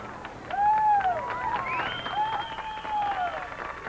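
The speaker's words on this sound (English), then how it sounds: "You can hear the cheers." A street crowd in San Antonio in 1987 cheers and claps as Pope John Paul II passes, a sustained roar of voices with whistles and scattered applause rising and falling at a moderate distance.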